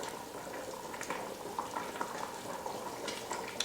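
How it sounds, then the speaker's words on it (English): A pot of Portuguese kale, potato and chorizo soup simmers at a low bubble, giving a steady, dense stream of small pops and gurgles with no one speaking. "So as you can see, it's come up to a nice simmer."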